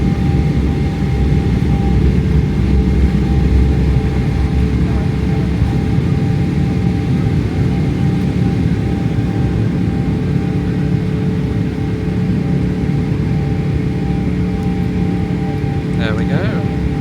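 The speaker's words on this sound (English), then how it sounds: "Nice smooth takeoff." An Emirates Boeing 777 on its takeoff roll, heard from inside the cabin as a loud, steady, broadband engine roar with rumble that holds throughout, and a voice talking over it.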